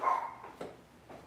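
Dogs indoors at home giving a few short faint barks, two or three quick yaps spaced apart, somewhat distant and quiet.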